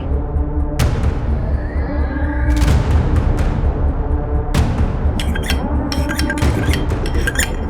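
A knife clinks against a glass of water set beside a bed, giving a handful of sharp, bright taps in quick clusters over a steady, low background hum.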